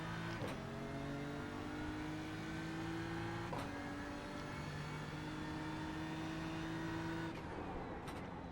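A BMW M4 GT3 race car lapping Spa-Francorchamps in the iRacing simulator, its engine droning steadily at high revs with sharp gear shifts marked by brief breaks and pitch drops, continuous and loud with no talk.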